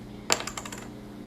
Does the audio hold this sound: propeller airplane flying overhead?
no